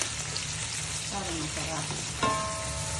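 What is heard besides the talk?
mushrooms frying in butter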